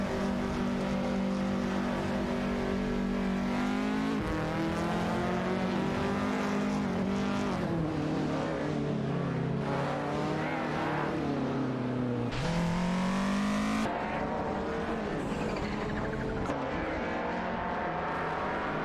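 Race car engines in an AI racing video game scream continuously, their pitch rising and falling through gear shifts and acceleration as several cars roar past without a break.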